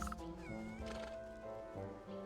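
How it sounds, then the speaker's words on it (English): Several cats in the game Wytchwood meow in a short burst, drawn-out and whiny, close and fairly clear with soft music under them. "Oh, look at all the cats."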